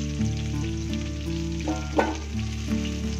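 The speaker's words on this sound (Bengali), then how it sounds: "ওই তেলের মধ্যে আলুগুলোকে একটু লাল লাল করে ভেজে তুলে নিচ্ছি" Potato pieces frying in hot oil in a pan, a close steady sizzle with light stirring scrapes and a brief louder crackle midway, no voices.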